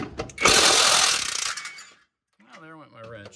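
An impact power tool zips loose the 17 mm lower control arm bolt on a 2004 Subaru Forester, one loud rattling burst of about a second and then a quick fade. Someone speaks briefly afterward.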